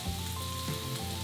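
Tomato paste sizzles and crackles in a hot pan while cooking for shakshuka, a steady close-up frying hiss with dense small pops throughout.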